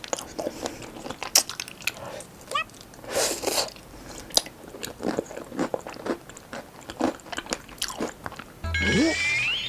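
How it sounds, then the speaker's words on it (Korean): Crisp almond-heavy tart shell crunched and chewed up close, a series of sharp irregular bites and crackles with pauses between, no talking. "아몬드를 엄청나게 많이 넣은 과자를 씹어 먹는 것 같고요"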